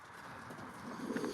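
A racing pigeon coos softly at close range, a low throaty murmur that swells slightly toward the end against quiet background noise.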